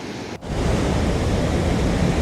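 River water rushes hard under a bridge in Dumnaga Valley, Neelam Valley, Kashmir, a loud, dense, continuous roar close by after a momentary dip at the start.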